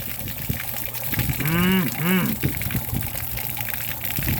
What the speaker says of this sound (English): we're gonna go ahead and flush out the water block